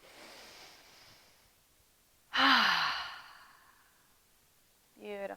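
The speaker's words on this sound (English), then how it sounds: "We'll take 2 more cleansing breaths, just like that." A deep cleansing breath during a calming relaxation exercise: a long, loud, breathy exhale rising sharply and fading slowly over about a second and a half, with quieter breathing before it and a voice starting at the end.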